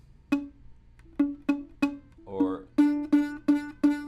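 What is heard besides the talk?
ukulele note with fret not pressed firmly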